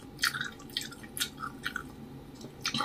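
Juicy fresh fruit such as longan, orange or kiwi is chewed close to the mic in a soft, wet rhythm, with small squishes and drips over a quiet room.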